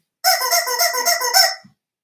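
A squeaky rubber chicken toy squeezed once, letting out a loud, honking, nasal squawk that wavers for about a second and a half before cutting off abruptly, alone in silence.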